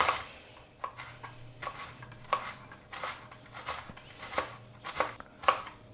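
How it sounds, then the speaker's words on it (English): A knife slices fresh ginger root on a cutting board during home keto vegan cooking, giving about eight crisp, evenly spaced cuts with soft board taps between them, close and clear with no talk. "I'm going to just quickly slice my ginger here."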